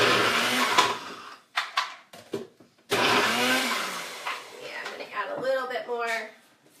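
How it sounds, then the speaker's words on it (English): A food processor whirs through a pea shoot mixture in bursts, the motor starting, stopping and restarting between stretches of talk from a person nearby. "in our food processor"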